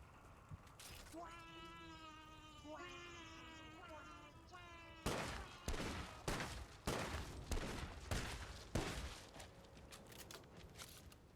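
An Enigma gun fires in a video game, starting as a whining, warbling tone and then bursting into a loud run of rapid shots.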